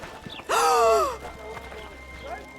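A short, sharp gasp from a character in the video game Witcher 2, a sudden loud rising intake of breath with faint game ambience and footsteps before and after it.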